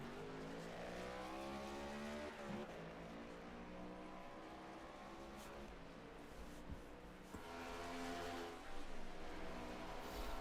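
Race cars in an AOLL Cup Series sim racing league roar past with a dense, loud engine drone, rising harmonics as the cars rev and shift, and brief surges as others pass close.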